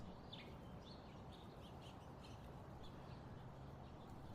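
European starlings call at a backyard feeder, with scattered chirps and whistles over a constant low rumble of background noise; no one speaks.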